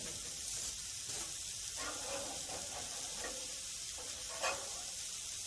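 Salmon sizzles on a Monument Grills Mesa-400 grill running at about 225, a steady close hiss of frying with faint scraping and a brief clack near the end.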